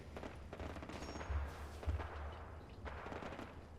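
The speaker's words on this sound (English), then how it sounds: "you can hear the battle up here" Battle gunfire in Fallout 4 goes on in the middle distance, with scattered shots and a couple of heavier low thumps over a steady rumbling wash of combat noise.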